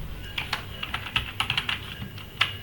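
Fingers tap numbers on a computer keyboard to fill in a web form, about a dozen crisp, close keystrokes in an uneven rhythm with no talking.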